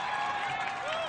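A crowd at an American Ninja Warrior competition applauds and cheers for a deaf competitor, a steady wash of clapping and voices throughout with no gaps.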